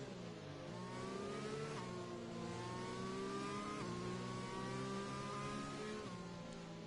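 An F1 safety car in a racing game at the British circuit pulls away, its engine note rising through several gear changes with steady mid-pitched revving, continuous and moderately loud without talk.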